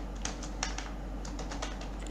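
Light clicking keystrokes on a computer keyboard while coding a Python program, a scattered run of soft taps with a low steady hum underneath and no talking.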